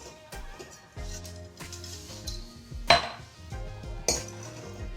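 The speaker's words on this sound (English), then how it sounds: "And then you are gonna put a little bit of ice in each cup" Ice cubes clink and knock into cups while a lemony michelada-style drink is prepared, with about five sharp ringing impacts at irregular intervals, close and fairly loud, with no talking.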